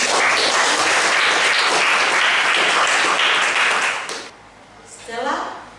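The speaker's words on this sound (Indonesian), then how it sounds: "Kita berikan aplaus untuk pembelajaran kita." A classroom of students breaks into dense, loud applause for several seconds, then the clapping stops abruptly and a voice is heard afterward.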